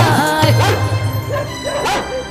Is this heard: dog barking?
yes